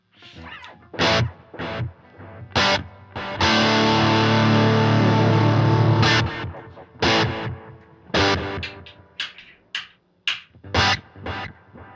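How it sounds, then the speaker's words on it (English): An electric guitar plays through the Echo Tank delay effect on a Fender Tone Master Pro, with distorted, choppy phrases and a sustained chord whose repeats trail off between short, punchy bursts. "this Echo Tank has been kind of a fun delay"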